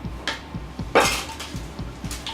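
A sticky granola mixture of fruit and nuts scraped and pressed into a foil-lined, greased pan with a utensil, making a series of soft knocks and scrapes with one louder crinkly clatter, close up.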